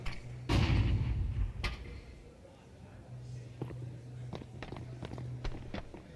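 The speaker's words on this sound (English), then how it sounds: "They're going to hear both footsteps." Footsteps thud in the Counter-Strike video game, a heavy landing followed by a run of soft, evenly spaced steps under a low hum, with someone talking over them.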